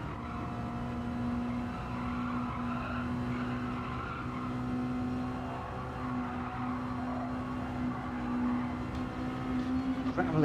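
A race car in Gran Turismo 7 skids onto gravel, a sustained tire scrub and gravel hiss over a steady engine drone that runs throughout, loud and continuous with no pauses.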